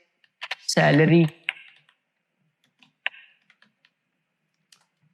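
Keys on a computer keyboard tap in a few scattered, sharp clicks while entering text into accounting software, heard mostly after a short spoken word at the start.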